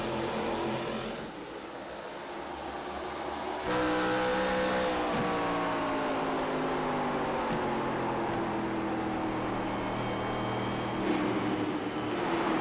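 ARCA stock race cars roar around the Milwaukee oval, engines droning loudly and steadily with rising and falling pitch as the pack passes close by, with no talk.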